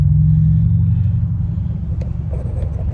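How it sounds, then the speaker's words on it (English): Heavy, steady traffic on the 91 freeway in Los Angeles, a loud continuous rumble of cars and trucks passing close by with no talking. "Right now I'm on this busy ass let me show you, this 91 freeway."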